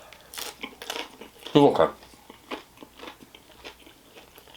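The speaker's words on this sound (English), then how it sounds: "I'm still chewing it" Someone bites and chews Barstool Sports frozen pizza and Stranger Things nuggets, making loud close crunches followed by softer repeated chewing, with brief talk in between.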